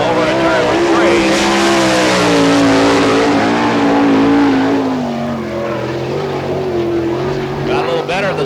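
A sprint race car roars through a qualifying lap at the Barberville, Florida dirt track during an All Star Circuit of Champions speedweek event, its engine loud and close with a sweeping pitch that dips as the throttle lifts, under an announcer's voice.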